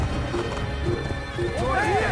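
A video game horse neighs in rising, whinnying bursts while hooves clip-clop at a gallop, with a voice talking over the action.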